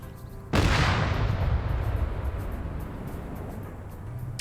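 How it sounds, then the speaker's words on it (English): A heavy burst of gunfire from a BMP armored vehicle in an Arma PvP battle erupts after a short quiet lead-in, a loud blast whose rumble decays slowly while faint distant shots tick in the background. "More fire coming in from that BMP."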